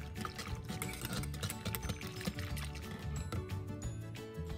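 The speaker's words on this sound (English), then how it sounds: "This is the best time to pour in the cream mixture." A creamy panna cotta mixture is poured over a set mango layer, giving a steady liquid pour that runs continuously at moderate loudness throughout.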